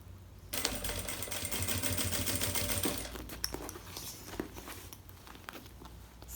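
A sewing machine stitches a bag in a fast steady run for about three seconds, then slows into short irregular bursts and clicks as the fabric is adjusted.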